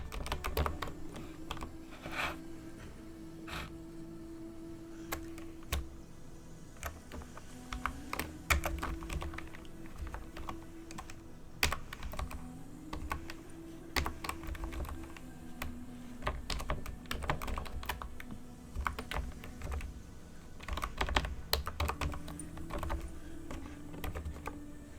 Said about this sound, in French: Nous devons juste taper la commande.